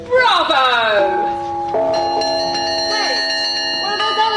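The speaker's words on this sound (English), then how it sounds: "that's the bell they ring down the dock when there's a ship about to set sail" A dockside bell rings out for a ship about to sail, sounding several clear, sustained metallic tones that overlap and ring on, loud and close, as other bell strikes layer in.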